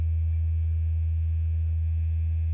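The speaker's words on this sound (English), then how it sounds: "I can still hear the E." Open low E string on a PRS electric guitar ringing out with long, steady sustain, a loud, even low tone that holds without decay for the whole stretch, with no talking.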